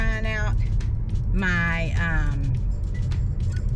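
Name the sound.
car driving, recorded by GoPro inside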